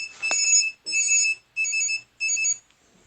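A game timer alarm rings in four repeated bursts of bright, high beeping tones with short gaps between them, loud and close, with no voices.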